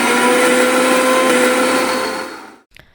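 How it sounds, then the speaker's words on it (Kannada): A mixer grinder whirring loud and close as it grinds amla into a thick paste, a steady high whine running for over two seconds before it stops abruptly, followed by a faint clunk. "ಈಗ ಇದನ್ನು ಆದಷ್ಟು ಪೇಸ್ಟ್ ರೀತಿಯಾಗಿ ರುಬ್ಕೋಬೇಕು."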